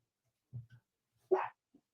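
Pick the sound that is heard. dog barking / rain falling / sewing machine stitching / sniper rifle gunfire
dog barking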